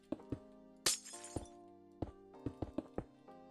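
Glass blocks placed one after another in Minecraft, a run of crisp clinks and taps with one brighter shattering crack near the start, spaced irregularly with no voices.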